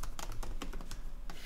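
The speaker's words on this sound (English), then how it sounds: "Ignore how I'm typing this for now." Rapid clicking of a computer keyboard, a quick irregular run of close, crisp keystrokes over steady low background hum, with no talk.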